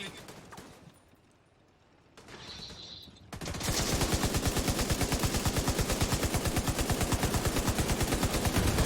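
Gunfire in the shooter The Division 2 opens after a quiet, muffled stretch, then becomes a loud, sustained automatic burst of rapid, evenly spaced shots that keeps going to the end.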